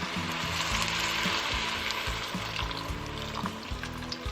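Garlic frying in a pot for a steak and potato pie, a steady close hiss with faint metallic scraping and clicks throughout, no voices.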